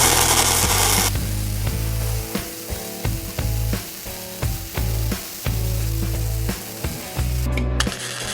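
A Primeweld MIG 180 runs gasless flux core welding on 220 volts, giving a loud, crackling sizzle that comes in repeated bursts of about a second, broken by short pauses and occasional clicks.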